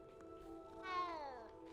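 A cat meows once in Hogwarts Legacy, a single drawn-out, rising-then-falling meow heard close and clear over a steady game music bed, with no talk.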